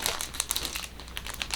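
Stiff plastic sewing pattern sheet crinkled and handled up close, a continuous crisp crackling with sharp snaps throughout, no talking.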